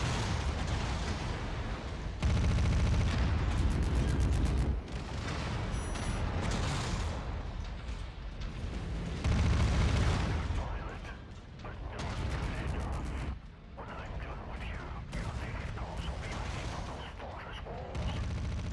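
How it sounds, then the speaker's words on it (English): Video game Merc Life combat with incoming missiles and gunfire: repeated loud blasts and rattling bursts over a continuous din of mechanical noise, with a voice speaking now and then underneath. "Oh, that's a lot of missiles coming in."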